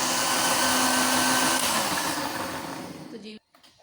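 Mint chutney grinds in a kitchen blender, a loud, steady whirring roar that holds for over three seconds, then stops abruptly, leaving a brief quiet rattle.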